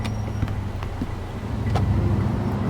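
Engine of a player's car in GTA 4, a steady low rumble with faint rattles and soft knocks, fairly close and continuous, no talking.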